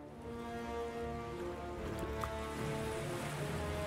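Ocean waves in the fantasy strategy game Dungeons 3 wash in a steady, moderate surf over a faint tonal musical bed, with no speech.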